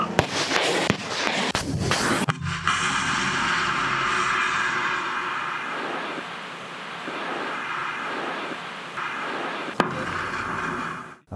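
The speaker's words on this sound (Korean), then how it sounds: "유도탄 발사 허가" A guided anti-tank missile launches with a loud, sharp blast, then a sustained roaring rush of the motor that slowly fades, with one more brief crack near the end.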